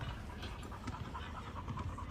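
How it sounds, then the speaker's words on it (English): A dog at a park panting rapidly and close by, a quick rhythmic huffing that runs steadily throughout with no talking. "This is his other dog."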